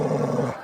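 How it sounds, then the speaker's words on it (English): Basil, a boxer dog, lets out a close, steady low growl for about half a second before it trails off into quiet. "Oh, what a growl."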